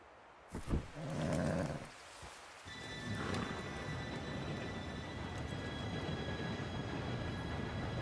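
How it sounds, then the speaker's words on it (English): A steam train approaches in the Red Dead Redemption 2 video game. A brief horse snort and shuffle give way to a steadily building rumble with faint high metallic whining as the train draws nearer. "Train should be here any minute now."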